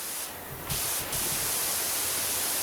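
Pressure washer spraying water in PowerWash Simulator 2, a steady hiss of spray with a brighter burst of mist early on and a short second burst, loud and continuous throughout.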